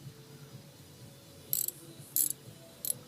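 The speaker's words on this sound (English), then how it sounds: "I've got my ratchet and I'm going to set it on tighten." Three short metallic ratchet clicks from a hand ratchet being set to tighten on a bolt during a primary oil change on a 2001 Harley-Davidson Sportster 1200 Custom, close and crisp over a quiet room.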